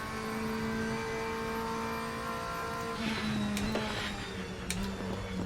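A race car engine hums and revs in a sim racing game, a steady droning note that climbs slightly in pitch, with a few sharp clicks and bumps near the end.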